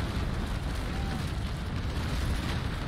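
Cannon broadside fired from a sailing warship in the naval combat game Naval Action: a heavy, sustained rumbling roar of many guns blending into one continuous loud blast.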